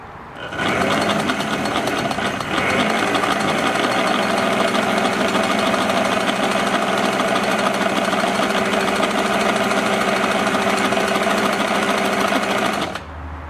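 An Elna Supermatic sewing machine stitches a test seam in one long, steady run, its motor buzzing with a fast rhythmic needle chatter up close before stopping abruptly.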